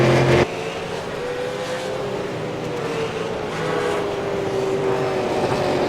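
A V8 Supercar laps Sebring in iRacing, its engine a steady, loud drone with a faint rising whine, and a brief thump right at the start.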